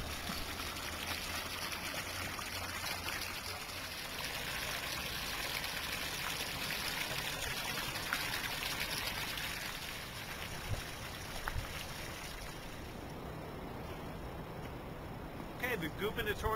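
Water pours steadily into a newly built garden pond in Princeton, New Jersey, a continuous rushing trickle with faint voices in the background.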